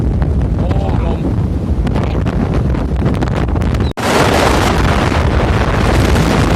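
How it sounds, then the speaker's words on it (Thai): Heavy gusts blast a bicycle rider's microphone at a windy reservoir, producing a dense, loud roar that cuts out abruptly for an instant and then resumes harsher, with a voice faintly showing early on. "วันนี้ลมแรงมากเลยครับ"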